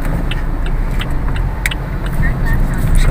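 Road traffic in a Philippine city streams past a delivery sedan in steady, dense noise with the rumble of car engines, and a voice speaks over it.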